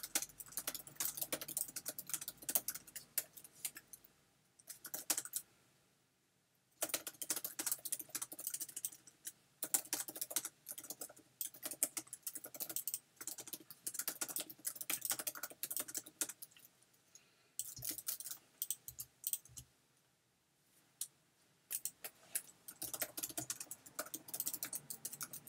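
Bursts of quick computer keyboard typing, close and light, come in long runs broken by several short pauses of near silence.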